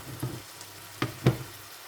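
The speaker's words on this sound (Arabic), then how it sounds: "وجدت كاس تاع فيرميسيل نديرها تتحمر" Vermicelli fries in olive oil in a pan, a soft continuous sizzle broken by a few clicking stirs and taps of a utensil, close and fairly quiet.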